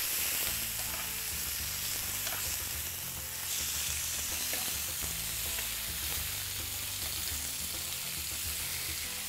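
Salmon fillet sizzling skin-side on a grill, a continuous crackling hiss with small pops, fairly quiet and without any voices.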